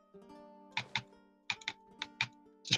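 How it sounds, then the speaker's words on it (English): Close keyboard clicks come in sparse pairs and short clusters during a strategy game, sharp and distinct over a faint steady hum, with no voices. "Stop clicking your keyboard. It doesn't help."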